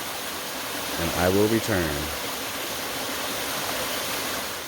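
A waterfall in Uvas Canyon County Park gives a steady, loud broadband rush of falling water throughout, with someone speaking briefly over it.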